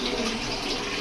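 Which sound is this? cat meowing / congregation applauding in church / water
water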